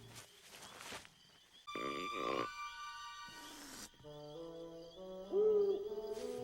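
An owl hoots in an animated Scooby-Doo movie scene, a wavering tone rising near the end amid scattered clicks, bursts of noise and quiet gaps.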